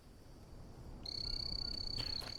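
An in-game frog in the Green Hell jungle survival game starts a steady, high, shrill trill midway through and holds it to the end over a quiet ambient bed.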